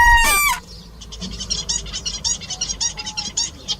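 A zebra finch, a small bird with a bright orange pointed beak and zebra-like chest stripes, sings close by: one loud harsh note, then a quick run of short, buzzy, repeated chirps with no voices.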